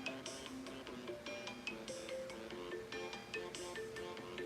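A phone ringtone plays close by in a steady melodic pattern of repeating bright tones, going on without pause and without any voices over it.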